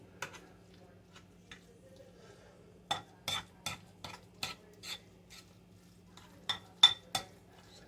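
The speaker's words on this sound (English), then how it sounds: "I just put my mayonnaise down in there. I'm just going to mix that in." A spoon mixing Duke's mayonnaise into a chicken salad with celery and spinach in a bowl, giving a series of quiet, irregular clinks and wet stirring strokes, close and fairly faint.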